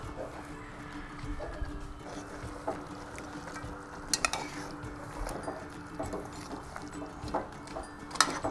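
Two pieces of sausage dropped into a cooking pot of pork knuckles and fabada beans, giving a few clinks and knocks against the pot amid kitchen clatter, with soft talking in the background.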